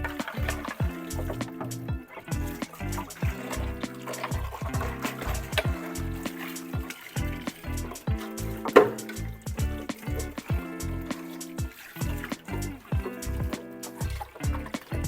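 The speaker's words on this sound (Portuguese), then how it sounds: "Essa outra parte aqui, onde fica as mídias, nós também vamos passar a água." Water runs and splashes over the filter media compartment of a home aquarium filter during rinsing, a steady close trickle and gush with rhythmic clattering as the parts are handled.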